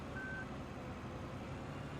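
A single steady electronic reversing beep from a van in Farming Simulator 15, one short high tone sounding over a constant low engine and road rumble on a country lane.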